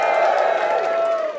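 A crowd of audience members cheering and whooping together in celebration, a loud, sustained roar of voices that fades slightly at the very end.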